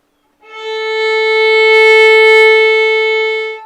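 Violin bowed on the open A string in a beginner lesson, a single clear, steady sustained note that swells in gently after a short silence and holds for about three seconds before easing off.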